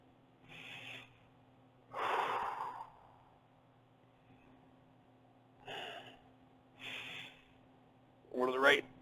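Deep breathing during a wide-stance yoga flexibility stretch with palms raised overhead: several separate airy breaths, each about a second long, come at a steady slow pace, and the last is the loudest and sharpest.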